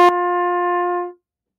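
A single sustained trumpet G note holds steadily for about a second, then fades out, with a short click at the start.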